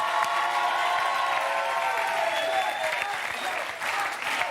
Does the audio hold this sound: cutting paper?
no